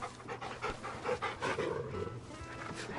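Torgal, the dog in Final Fantasy XVI, pants in a steady, rhythmic stream of quick breaths, close and fairly soft, with no talk over it.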